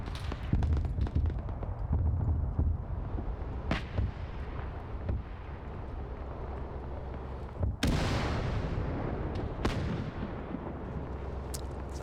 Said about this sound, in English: Now you got those heavy guns, I mean, with point-blank shots, they're just annihilating those tanks there.